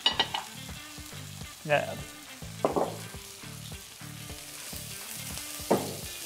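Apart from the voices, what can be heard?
chicken breast fillet frying in a pan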